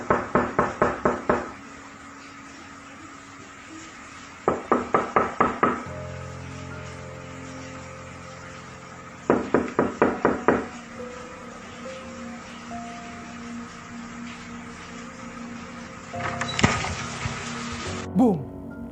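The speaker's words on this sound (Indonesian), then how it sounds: "Misteri ketuk pintu pada tengah malam hari itu tak hanya terjadi di rumah itu" Mysterious midnight knocking on a house door in Malaysia: four separate bursts of about five rapid, loud raps each, with long pauses between them over a low, steady background hum.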